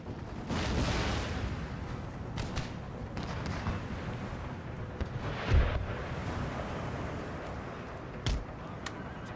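Musket volleys from troops in Total War: Empire crack and boom over a dense rumble of battle, with a few sharper shots standing out amid the continuous roar.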